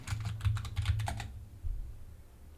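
Computer keyboard typing, a quick burst of clustered keystrokes that stops abruptly, leaving quiet room noise.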